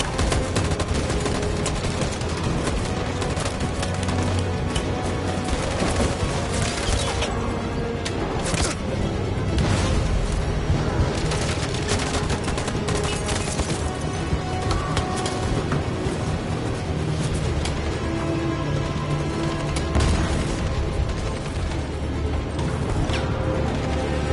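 Dense, sustained gunfire rattles on without pause in a Detroit: Become Human battle scene, with overlapping rifle and machine-gun bursts forming a loud, continuous volley.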